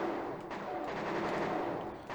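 Gunfire from a mech's weapon in the Armored Core video game: a steady rapid stream of automatic shots, moderately distant and muffled, continuing unbroken for a couple of seconds.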